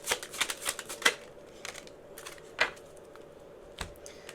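A tarot deck is shuffled up close in quick papery riffles, then after a quiet stretch single cards are drawn and laid down with soft flicks.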